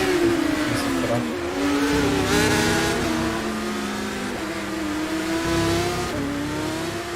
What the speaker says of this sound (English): the cars are just taking part in their final warm-up before the qualifying session